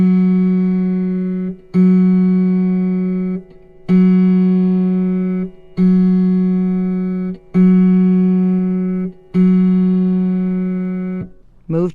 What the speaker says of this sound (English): Place your tuning wrench on the pin marked F sharp in the lower octave and pluck the proper string